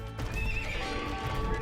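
A horse neighs in Age of Empires II, a bright, wavering whinny rising over a steady background of clopping hooves and battle noise, all fairly loud and continuous without talk.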